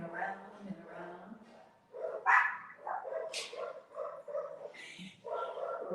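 Puppies yip and bark in a lively neighbourhood in Mexico, several high, choppy barks and whimpers layered over one another at a moderate distance while a person talks.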